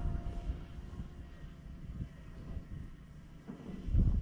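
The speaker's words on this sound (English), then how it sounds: "I'll bring the drone back down now" A drone flies overhead above a fishing lake, its steady engine-like drone heard at a distance with gusts of wind buffeting the microphone.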